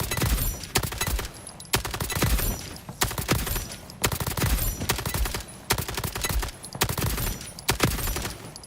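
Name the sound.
gunfire from a gun in the video game ALARA Prime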